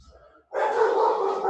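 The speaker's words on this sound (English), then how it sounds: "my roommate's dog is freaking out" A roommate's dog barks once near the microphone after a short quiet lead-in, a strong, sustained bark that holds for about a second.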